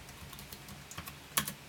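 Typing on an Irocks X-Slim 1.5 keyboard, a quiet run of soft irregular key clicks with one sharper tap near the end; close but faint, no voices.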